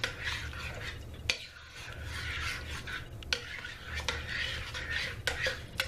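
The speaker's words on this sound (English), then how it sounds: "all you want to do is stir your ingredients all together" A spoon scrapes and stirs pumpkin butter ingredients together in a slow cooker, with steady rubbing strokes and a few sharper clinks against the pot, close and alone.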